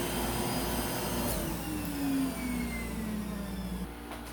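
A Rainbow SRX vacuum cleaner runs close by with a loud, steady whine and airflow roar, its pitch sliding slightly before a brief dip near the end.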